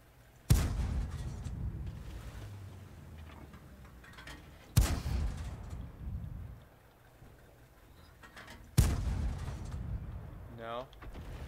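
Three heavy tank cannon blasts from World of Tanks, fired blind at roughly four-second intervals, each a sharp loud boom with a rumbling tail over low engine drone.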